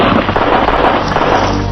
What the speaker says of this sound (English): He is shot in the head.